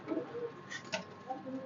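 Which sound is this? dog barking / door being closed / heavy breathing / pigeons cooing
pigeons cooing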